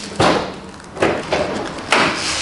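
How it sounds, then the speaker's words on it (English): Hood of a 1968 Chevrolet Chevelle being worked open, with several sharp metallic thumps and clunks spaced about a second apart, close and loud with no talking. "Now let's go ahead and open up our hood."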